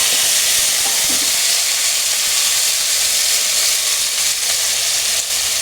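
Vegetable pieces for sambar frying in hot oil, a dense, steady sizzle and hiss that runs without a break, close and loud, with no voices.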